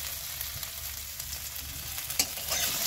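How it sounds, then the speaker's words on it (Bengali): Cumin seeds and a little ginger temper in a small amount of oil, giving a soft continuous sizzle with light stirring scrapes and a brief clatter near the end, no voices. "একদম একটুখানি তেল দিয়েছি, দেখো শুধু জিরেটা ফোড়ন দিলাম আর অল্প আদা দুটো করে নিয়েছি সেটা দিলাম।"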